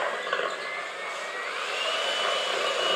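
Electric mixer beating cream cheese buttercream for red velvet cupcakes, a continuous whirring motor drone with a slight rise in pitch and loudness as it runs, heard alone at close range.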